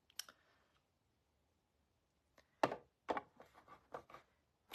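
Butterfly shapes are die cut from card stock for a fold-out window card: a crisp click, a pause, then a run of sharp clicks and knocks from the cutting machine and handling, close and distinct against a quiet room.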